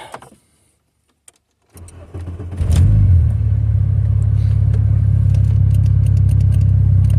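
An Mk3 car's engine is cranked and fires after a few quiet clicks, catching with a loud low roar and then settling into a steady, close idle rumble that holds to the end.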